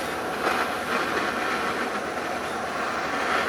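A blowtorch flame roars steadily against a fire-tested storage box for private crypto keys, a continuous broadband hiss that stays loud and even throughout, with no talk.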